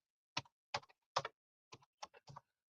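Typing on a computer keyboard: about a dozen crisp key clicks in small quick clusters separated by short pauses, close and clear against near silence.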